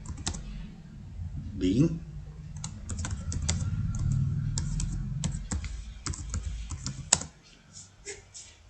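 Computer keyboard typing while entering a narration in Tally Prime accounting software: rapid, irregular clicking keystrokes throughout, close and clear, with someone speaking over part of it.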